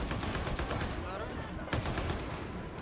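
Video game gunfire comes in dense, rapid bursts of automatic shots over a busy game soundscape, with a voice faintly present.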